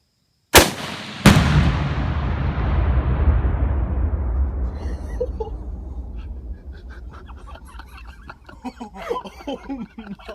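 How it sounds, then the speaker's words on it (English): Ten pounds of Tannerite detonate outdoors in two sharp, loud blasts about half a second apart, followed by a long rumbling decay that fades over several seconds. Voices then talk over the dying rumble. "I saw the powder explode"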